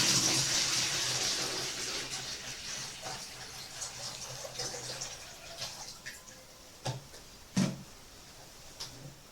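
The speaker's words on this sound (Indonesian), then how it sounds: "lalu kita masukkan air ke dalam wadah ini" Water poured into a container for making eco enzyme, a steady splashing stream that gradually tapers off into scattered drips and a few louder knocks near the end.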